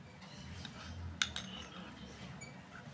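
A spoon clinks and scrapes against a bowl while body oil is mixed, giving one sharp metallic tap followed by soft stirring over a low steady hiss.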